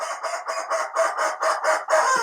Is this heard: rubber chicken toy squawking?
yes